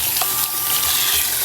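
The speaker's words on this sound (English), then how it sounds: "All right, we're gonna rinse this out." Water runs from a salon sink sprayer, rinsing hair dye out of hair with a steady, close hiss and splash and no talking.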